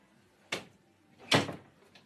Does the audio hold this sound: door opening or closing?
yes